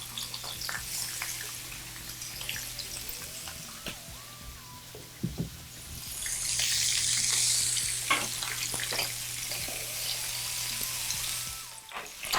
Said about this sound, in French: On va rajouter tous nos légumes dans la poêle. On va les faire rissoler un petit peu.